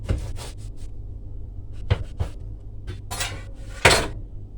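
A knife cuts a homemade cheese and tomato loaf in half, giving several scraping, crunchy strokes with a few sharper clinks against a board or plate, close by with no talking.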